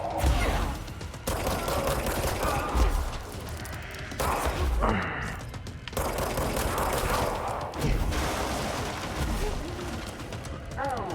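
Gunfire in the video game Control: repeated bursts of shots and clattering impacts over a constant dense action backdrop, with a voice talking across much of it.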